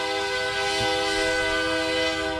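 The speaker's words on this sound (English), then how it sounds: "Love that train." A passing train sounds its horn in one loud, sustained, steady blast that fills the whole moment, with no talking over it.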